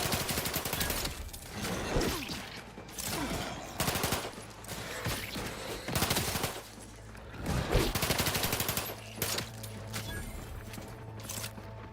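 Bursts of gunfire ring out in The Outer Worlds 2, several rapid volleys and single shots spread across the stretch, loud and close, separated by brief lulls.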